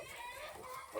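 Brabanter hen clucking softly outdoors, a short murmur of low clucks against faint farmyard background, with no one talking.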